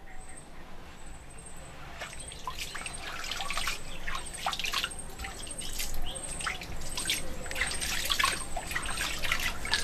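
Water at the pool of Bethesda on Igarra mountain trickles and drips steadily, with birds calling and chirping throughout over soft outdoor ambience.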